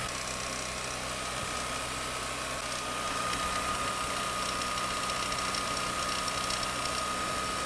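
A BMW engine held at 4000 rpm with a rattling, knocking valvetrain, a steady, dense mechanical drone heard up close, with no talk over it.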